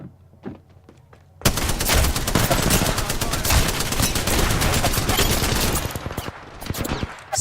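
Dense, continuous automatic gunfire in a first-person shooter round, loud and sustained for about six seconds after a brief quiet start with a few faint clicks.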